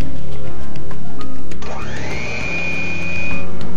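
An electric mixer beating an egg into cream cheese and sugar for a red velvet pound cake, a loud steady motor whir that dips and rises into a high sustained whine, with rhythmic clicking under it.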